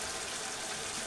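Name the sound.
pouring maple syrup onto apple cinnamon topping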